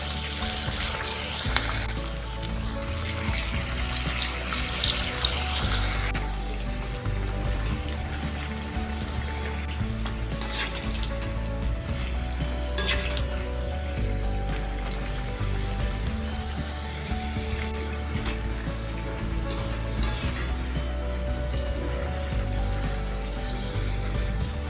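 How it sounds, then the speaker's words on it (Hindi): Sliced potatoes frying in hot oil over a low gas flame for a crispy masala aloo katli, a steady dense sizzle crackling continuously at close range with no talking. "गैस की फ्लेम को लो करके एक एक करके फ्राई कर लेंगे"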